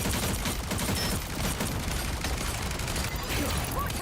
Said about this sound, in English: I'm still not used to Rocket's gun after all these years.